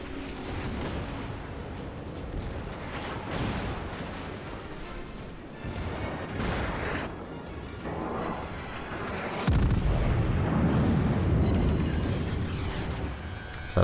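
Naval guns booming in a World of Warships ship battle, heavy continuous rumbling salvos and blasts that keep layering into a dense roar, growing louder toward the end, with no talking.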